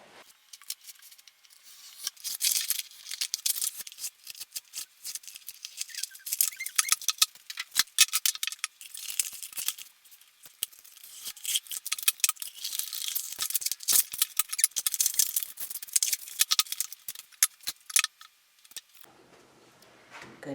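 Scissors snip around small decal stencils for a stained wooden summer porch sign, a steady run of close, crisp cutting clicks and paper rustles for most of the stretch, easing into quieter handling near the end.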